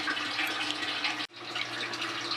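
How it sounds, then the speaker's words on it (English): Steady rushing and splashing of water as an aquarium fills during a water change, loud and continuous with one brief dip in the flow, no voices. "Now the aquarium is still filling up"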